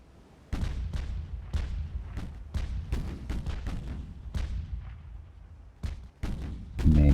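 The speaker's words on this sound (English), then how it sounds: "Main battery fire." Warship main battery guns fire in a naval battle game, a series of about a dozen heavy booming shots at uneven intervals, loud and close, with rumbling tails and one final blast at the end.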